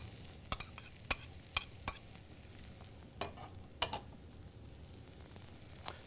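Mushrooms, minced shallot and sliced garlic sauté in butter in a preheated pan. A soft, steady sizzle runs throughout, broken by scattered sharp clicks and scrapes of stirring. The sound is faint and no one talks.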